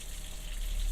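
Water runs steadily from a household faucet, a constant broadband gush holding at an even level throughout, with no talking over it.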